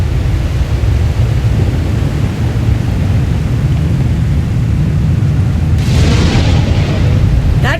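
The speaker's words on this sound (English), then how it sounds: "The lightning strikes can be deadly out here." Lightning strikes and thunder on a stormy battlefield in Star Wars: The Old Republic, a loud continuous low rumble throughout, with a sharper crackling burst near the end.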